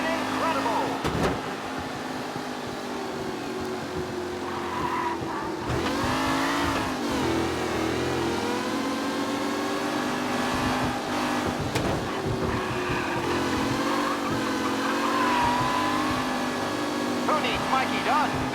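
Race cars in the video game Mafia, engines revving and accelerating loudly through gear changes with rising and falling pitch, a few sharp bursts along the way, while a voice talks over them at times.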